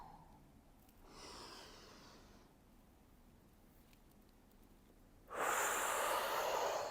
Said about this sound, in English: And breathe out as those elbows come in.